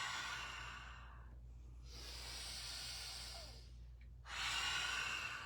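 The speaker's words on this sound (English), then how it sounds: "So it's inhale through the nose and exhale through the mouth." A person in chair yoga breathing in through the nose and out through the mouth: three slow, close, airy breaths, each a long hissing rush separated by brief quiet pauses.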